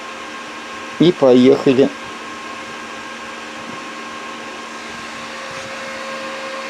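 A homemade half-bridge induction furnace powers up, its steady electrical hum and whine holding at a constant, fairly loud level after a brief spoken phrase near the start.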